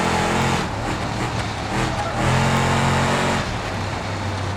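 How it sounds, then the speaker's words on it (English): A van in the BeamNG driving game speeds along with a loud continuous engine roar and tire noise, a rough burst around the middle marking the tire popping, with no talk over it. "Oh no, I popped the tire."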